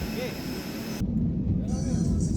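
Steady low rumble inside an airliner cabin before take-off from Soekarno-Hatta Airport, bound for Bali. A continuous engine and air hum sits throughout, with a voice speaking over it.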